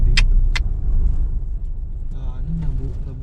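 Cars pass close by on a busy street, a loud, continuous engine rumble with swells as vehicles go past and a couple of sharp clacks early on, while people talk over the traffic.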